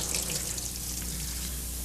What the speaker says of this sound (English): run water into the ferrule to get the paint out of the heel